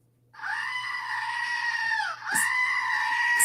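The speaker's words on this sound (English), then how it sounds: "I do have a screaming goat." A goat screams in one long, loud, strained bleat that dips and breaks, then resumes, cutting off abruptly near the end.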